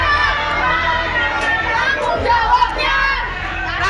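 A loud, dense crowd of hundreds of vocational school students shouting and clamoring together as they storm into their school building in Depok, West Java, a continuous close roar of voices.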